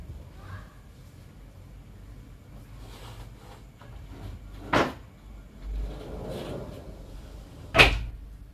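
A door or cupboard banging shut twice, sharp close knocks a few seconds apart, set against faint background noise and quiet rustling.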